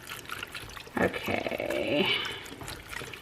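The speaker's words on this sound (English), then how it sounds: "let's get some more veggie broth in here" Vegetable broth pours into a Ninja Foodi pressure cooker pot, a splashing liquid rush swelling from about one second to over two seconds, moderately close, with a person speaking briefly around it.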